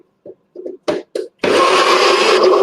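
A blender whirring up vegan festive dessert ingredients, starting after a few short lid-handling knocks and clatters, then running loud and steady with a high motor whine to the end.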